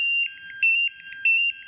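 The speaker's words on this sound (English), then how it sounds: "you should see that there will be an alarm indicating an unsafe oxygen" An oxygen sensor sounds its alarm for an unsafe oxygen level: loud, piercing electronic beeps pulsing in a quick repeating pattern over a steady tone, with no talking.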